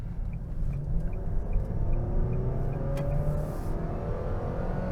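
A 2024 Nissan Sentra with an Xtronic CVT in sporty mode accelerates, its engine drone rising in pitch and dipping slightly at simulated shift points, heard steadily from inside the cabin with no talk.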